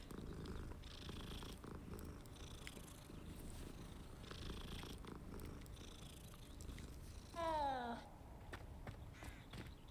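A cat in the video game Hogwarts Legacy purrs softly and continuously under a low ambient game bed, followed by a brief rising meow-like call near the end.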